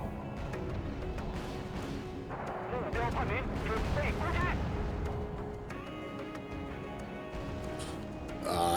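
Rumbling booms and crackling blasts of a bomb explosion in the real-time strategy game Wargame: Red Dragon, loud and continuous, with a voice talking over parts of it.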